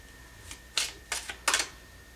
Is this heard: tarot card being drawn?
yes